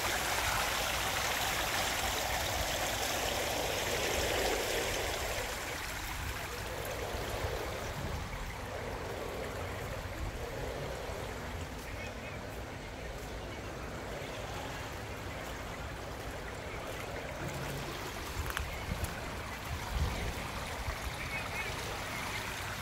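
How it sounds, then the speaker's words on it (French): Steady rushing and trickling water from a hotel swimming pool at Roquetas de Mar, Almería, a continuous broadband wash with faint background activity throughout, no talking. "je vous laisse avec le spectacle de la piscine, le bruit de la piscine"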